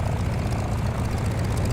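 Steady rotor and turbine drone of an Airbus H160 helicopter in Microsoft Flight Simulator 2024, a continuous low-pitched whir holding at even loudness throughout with no voices.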